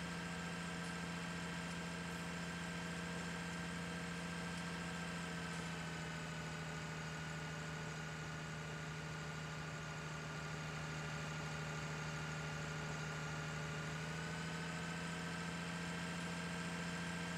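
A tractor engine idles in a farming simulation game, a steady low drone with a constant hum and fixed tonal whine, unchanging throughout with no voices.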